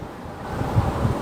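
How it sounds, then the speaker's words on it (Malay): Steady outdoor wash of waves breaking on a beach shore, blended with wind buffeting the microphone, a continuous low rumble with slight swells in loudness and no talking. "Bunyi desiran ombak."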